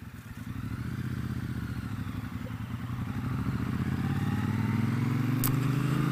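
Steady rumbling engine of a 2017 Triumph Bobber motorcycle while riding, a low-pitched pulsing exhaust note that grows louder and climbs slightly in pitch, with wind noise around it.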